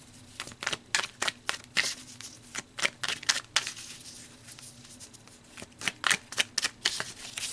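A deck of oracle cards being shuffled by hand, a quiet series of crisp riffling bursts in irregular clusters, close up with brief pauses between.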